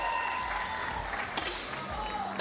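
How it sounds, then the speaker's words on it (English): A crowd applauds a shot at a Paralympic mixed 10m air rifle prone final in Paris, a steady wash of clapping that swells sharply partway through, heard under a commentator's voice. "the pressure of the crowd cheering on every single shot"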